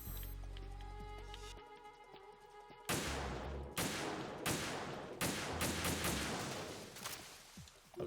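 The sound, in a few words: rapid rifle gunfire, unsuppressed, from a video game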